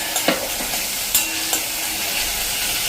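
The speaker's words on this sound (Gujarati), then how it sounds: "આ ટમેટાની પ્યુરી કરી છે એ પણ નાખી દઈએ." Tomato puree goes into onions frying for an okra sabzi, making a loud continuous sizzle with a few sharp stirring clacks along the way.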